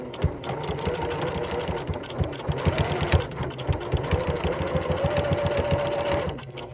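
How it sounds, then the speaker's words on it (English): A sewing machine stitches across a chalk line on denim from upcycled jeans being made into a tote bag, running in a fast, even mechanical chatter with brief changes in speed. "I'm going to sew across that."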